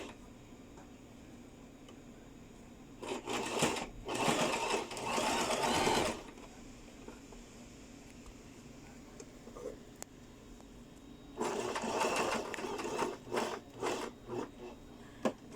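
A sewing machine stitches a heart-shaped neckline facing on a garment mock-up in two bursts of rapid, steady needle chatter, a few seconds each, separated by quiet handling; close and clear, with no talking.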